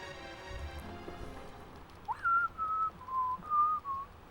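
Human whistling in a short melodic run of several sustained, gliding notes, close and fairly clear over a low background hum, with no talk over it.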